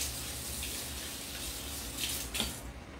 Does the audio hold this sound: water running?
yes